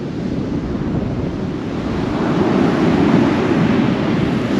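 Sea waves surge and break continuously on the shore at Tunstall, a steady broad rumble that swells slightly louder midway, with wind buffeting the microphone throughout and no voices.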